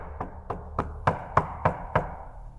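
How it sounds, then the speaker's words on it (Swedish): Seven hard knocks on a solid surface, evenly spaced about a third of a second apart, loud and close in a quiet room with no talking. "Knacka hårt någonstans här."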